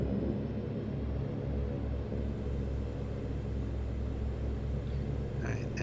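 Twin turboprop engines of a Saab 340A in X-Plane 11 drone with a steady, loud low rumble as power builds toward takeoff thrust, holding a constant hum with a faint whine on top.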